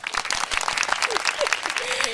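A live audience applauds podcast hosts as they are introduced: loud, continuous crowd clapping with cheering voices and whoops mixed throughout.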